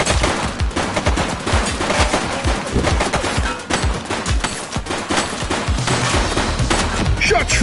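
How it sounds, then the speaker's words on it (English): Gunfire in The Precinct video game on PS5: a dense, sustained volley of rapid shots and cracks, loud and close, running continuously throughout. "Shots fired!"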